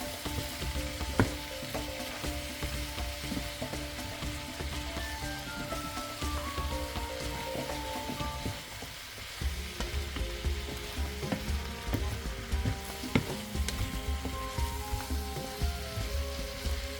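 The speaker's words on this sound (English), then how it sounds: "and a tablespoon of sweet paprika and then mixing through." Beef and lamb stew meat sizzles steadily in a pan while sweet paprika is stirred through, with scraping spoon strokes and small clinks over the continuous frying hiss.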